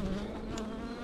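Honey bees hum during a honey harvest using a bee escape, a loud, steady buzzing drone close by, with no talk.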